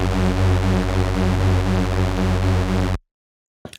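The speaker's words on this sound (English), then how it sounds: "I honestly just took this one-shot synth that I found." Raw analog-resampled mono poly stab synth one-shot in F sharp, played at its original pitch: a loud, sustained, harmonically rich tone holding steady for about three seconds, then cutting off abruptly into silence before a faint brief return at the end.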